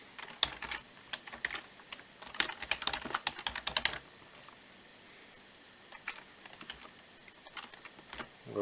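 A password is typed on a computer keyboard as quick, close, crisp clicking keystrokes in irregular bursts, then a few scattered taps against quiet background hiss.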